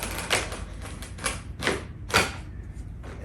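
Utility knife scoring and cutting through thin wood veneer, a series of short, sharp scraping strokes close by, about five in an uneven rhythm with brief pauses between them.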